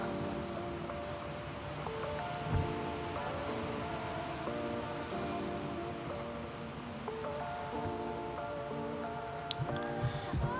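Ocean waves wash steadily beneath a sailing dhow in the video game Sailwind, a soft, continuous surf-like hiss at low volume, accompanied by faint tonal game sounds and occasional small knocks.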